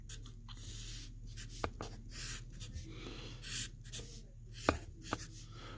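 A pen moves across paper while a graph is drawn, giving soft close scratching strokes with a few sharper taps, quiet with a low steady hum underneath and no speech.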